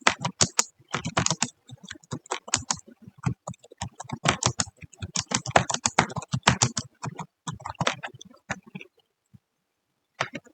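Fingers type a prompt on a computer keyboard in quick clustered bursts of clicky keystrokes, close and crisp, with short pauses between runs before the tapping trails off into silence.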